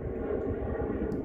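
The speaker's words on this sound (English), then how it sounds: "I live close to the airport. Y'all hear all these planes." An airplane near an airport rumbles overhead as a steady, low, broad roar, continuous and fairly loud with no talk.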